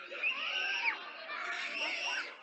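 A six-year-old boy screams repeatedly in a park while a coyote chases and bites him, his high cries continuous and fairly close, with faint background voices.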